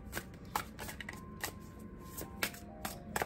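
A deck of tarot cards is being shuffled by hand. Short, crisp riffling bursts come in an uneven rhythm, close and fairly quiet, with no talking.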